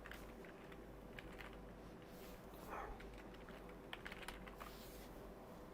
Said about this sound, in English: Let me just type it in the chat so you guys know where to get that.